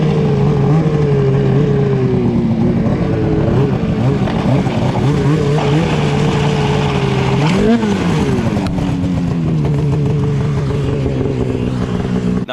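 A riderless snowmobile's engine revs hard and continuously up close, its pitch wavering and surging as the sled runs on its own through snow.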